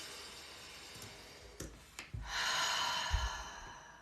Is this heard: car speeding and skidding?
no